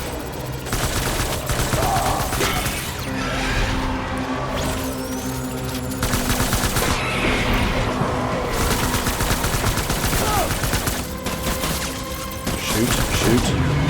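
Gunfire in the video game Death Stranding: dense bursts of rapid shots and explosive cracks during a fight, loud and continuous, with a voice talking over them.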